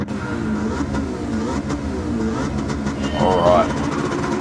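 A Ford Mustang V8 tuned past 800 horsepower in Gran Turismo 7 revs loudly and steadily for a drag-racing mission, its engine tone climbing near the end.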